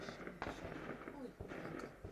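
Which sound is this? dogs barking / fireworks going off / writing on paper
fireworks going off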